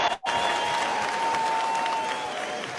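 A large crowd at a Republican convention applauding Charlie Kirk, a dense continuous wall of clapping and cheering, loud and sustained after a brief dip at the start.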